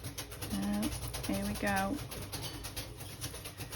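Mabel, a pet bird, calls in the morning with three low, hollow cooing notes in quick succession, fairly close, while a person speaks briefly in the room.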